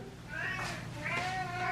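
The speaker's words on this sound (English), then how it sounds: "Cats want dinner." Cats meowing for their dinner, two rising, drawn-out cries close by with a low steady hum beneath.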